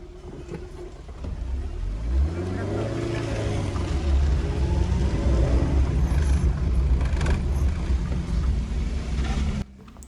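A vehicle climbs a hill road up to the Betta Ranganatha Swamy temple hill near Kunigal, its engine rumbling steadily louder and straining as it ascends, with wind noise and faint voices in the background.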